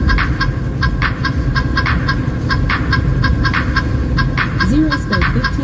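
A stream sound alert plays a chicken remix during a trucking livestream: loud, rhythmic honking clucks repeat over a steady, driving beat and continuous low rumble.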